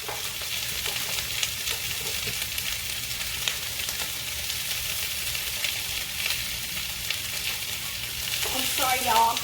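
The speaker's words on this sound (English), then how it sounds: "I'm just cooking the vegetables right now." Vegetables for a pepper steak stir-fry sizzle steadily in a pan, a dense continuous hiss with occasional stirring scrapes, growing slightly louder near the end.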